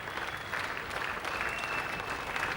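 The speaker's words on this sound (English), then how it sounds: "because he's getting a round of applause" Crowd at a cricket ground applauding a batsman's 9,000th Test run, steady sustained clapping spread evenly across the stands at moderate distance, with no talk over it.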